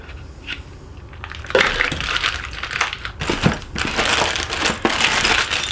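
Metal clamps from a Thrustmaster T598 racing wheel box being handled and knocked together, a string of close clanks and rattles over rustling packaging, loud and without speech.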